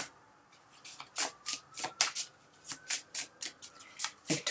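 Tarot cards being shuffled by hand, a quick run of crisp riffling bursts in a steady rhythm, close and fairly loud with no talking.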